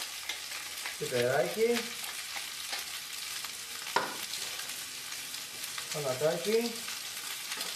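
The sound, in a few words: pasta being stirred and sizzling in frying pan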